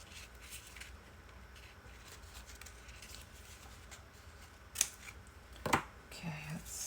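Scissors snip through a strip of scrap fabric, a couple of quiet, close crisp cuts standing out against a low room hush, with a faint squeaky sound near the end.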